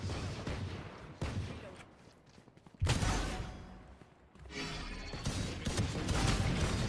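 Gunfire in the tactical shooter Valorant during a pro match: bursts of shots and sharp impacts come in several loud clusters, with a few quieter spells between, and a voice speaking faintly at points.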